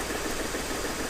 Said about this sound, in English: This engine shakes a lot.